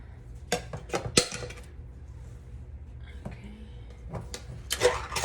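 Cutlery clinks and rattles as a knife is pulled from a kitchen drawer, with a few sharp metallic clatters at the start and another cluster near the end, close by over a quiet room hum.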